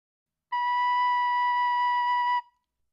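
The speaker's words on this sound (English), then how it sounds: "The first note is B," A recorder plays a single sustained B note, a clear, pure whistle-like tone held steadily for about two seconds before stopping cleanly, alone in silence.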